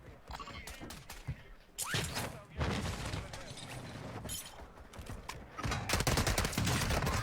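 Rapid bursts of gunfire and sniping in a shooter video game, loud clustered volleys with sharp cracks and short pauses between them, with the rest of the game's sound beneath.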